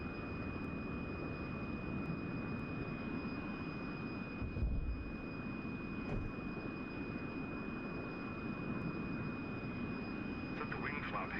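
An F-100D jet's engine roars steadily from the cockpit in a flight simulation just after takeoff, a continuous loud drone with a thin whine held over it and a brief thump partway through, while a voice speaks over it.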